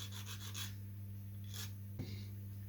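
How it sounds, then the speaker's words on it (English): Balsa wood model part for a P51 Mustang being sanded by hand, a few short, soft rasping strokes in bursts over a low steady hum, faint and close. "Give a little sand."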